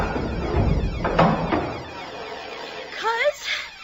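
A padlock is cut and the sound booth door is opened: clunking metallic knocks and a thud come first, followed by a creaking rise near the end, with voices mixed in.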